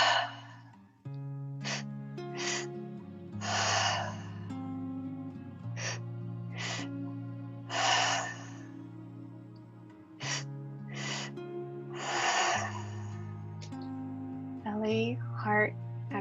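Guided three-part breathwork, with the breath drawn into the belly and heart and then released out through an open mouth: a steady series of forceful, airy exhales, close and fairly loud, repeating at a regular pace over a soft, sustained musical drone.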